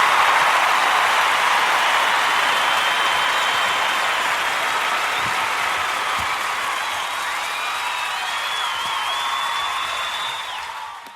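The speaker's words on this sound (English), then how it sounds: "What a wonderful applause." Sustained audience applause at a lunchtime live concert, a dense steady wash of clapping from a sizable crowd lasting throughout before tapering off at the very end.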